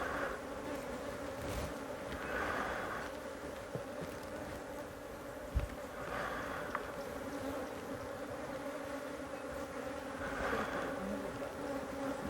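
Honeybees buzz steadily during propolis harvesting at an apiary, a continuous close insect drone with a few swells, and no voices.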